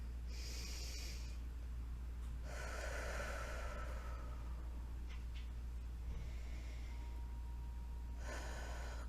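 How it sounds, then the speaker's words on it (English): Deep, gentle breaths during a slow yoga practice, several long airy inhales and exhales spaced a few seconds apart, close and soft over a steady low hum. "Take another couple of breaths here."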